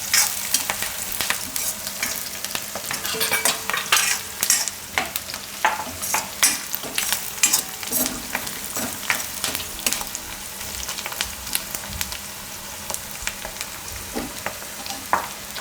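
Curry leaves fry in hot oil in a pan for a Gujarati chana dal and soya chunk curry, with constant crackling sizzle and a spoon scraping and stirring in irregular bursts, close up with no talking.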